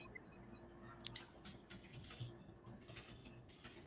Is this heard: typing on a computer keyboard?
yes